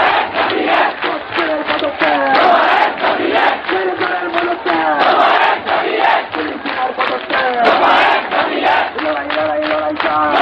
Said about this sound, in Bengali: স্লোগানটির অনুকরণে দফা ১ দাবি ১ মুখ্যমন্ত্রীর পদত্যাগ এই স্লোগানটি শোনা যায়